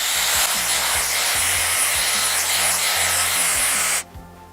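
Dyson Airwrap blowing hot air while brushing hair, a loud, steady high-pitched whoosh with soft rhythmic brush strokes beneath, cutting off abruptly near the end.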